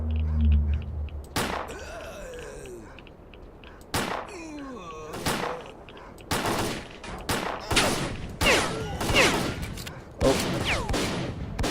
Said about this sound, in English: there's someone with a decent shotgun